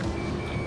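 A steady electronic lock-on warning tone in the Ace Combat 7 flight game, a sustained beeping alarm held continuously over a low engine rumble, loud and unbroken for the whole moment.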